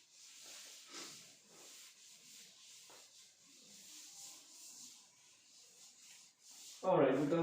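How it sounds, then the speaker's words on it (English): Writing wiped off a board, a soft continuous rubbing swish in repeated strokes at low level, ending in a brief louder voice. "I'll rub it off now."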